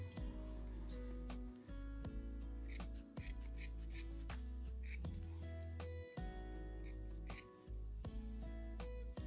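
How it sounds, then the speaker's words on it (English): Scissors snipping a thin sliver from a carpet offcut close by, with a steady run of crisp cuts and rasping scrapes over a constant low hum. "cut yourself a little sliver of carpet"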